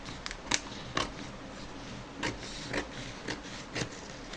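Scissors snip through blouse fabric along a marked curved line for a belt piece, a series of short crisp cuts spaced irregularly over a soft background hiss, close and fairly quiet.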